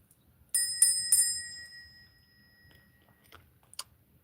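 A bell rung twice in quick succession, bright ringing tones that sustain and fade slowly, followed later by a couple of faint light clicks.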